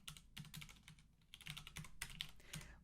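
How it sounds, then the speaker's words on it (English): Rapid, uneven keystrokes on a computer keyboard, nearby and fairly quiet, tapping out a web address in short bursts with brief pauses and no voices. "Then I will type in my URL"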